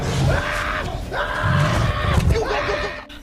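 A man screams in panic as he flees, a comedy film scene from The Interview, his loud strained cries rising and falling in three bursts over crowd-like noise and low thuds.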